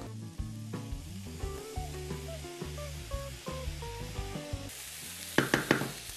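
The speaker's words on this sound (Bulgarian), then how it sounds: "и се слага в тигана с зеленчуците" Chicken and vegetables sizzle in a frying pan over a bed of music, the crackle rising in short bursts with sharper spits near the end.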